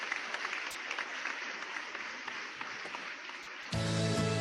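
A children's church congregation at a Sunday service applauds, steady clapping from many hands filling the room, then the sound cuts abruptly to a louder, different tone near the end.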